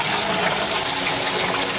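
Water falling steadily into a small aquaponic fish tank, aerating it without air stones; a loud, continuous, close-up splashing rush with no pauses.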